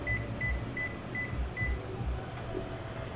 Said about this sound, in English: It's a new oven timer.